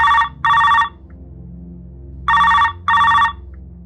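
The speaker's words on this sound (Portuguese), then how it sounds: "Quando naquela manhã o telefone tocou" A telephone rings in two double bursts, each a pair of short, bright trilling rings with a gap before the next pair, heard clearly over a faint low hum.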